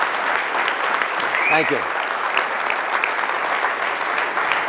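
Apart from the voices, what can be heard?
audience applause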